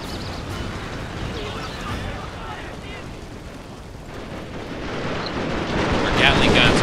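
Gatling guns firing in Total War: Shogun 2 make a dense, continuous roar of rapid gunfire and explosive bursts that swells louder toward the end, with no talking.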